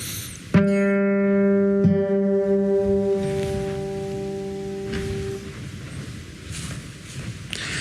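A single acoustic guitar note plucked on the G string, ringing out clearly with sustained harmonics, then plucked again and left to decay slowly into quiet room noise.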